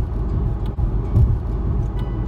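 Car driving eastbound on the I-84 highway through Danbury, Connecticut, heard from inside as a steady low road and engine rumble, continuous and fairly loud, with no voices.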